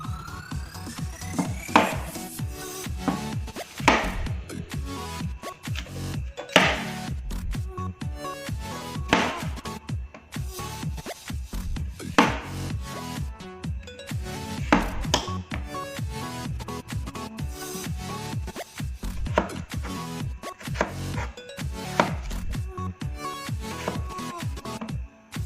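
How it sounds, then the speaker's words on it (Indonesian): Potatoes being sliced with a knife on a board, a steady run of sharp, close chopping thuds and scrapes at an irregular rhythm with no talk over them. "Sekarang kita potong dulu kentangnya."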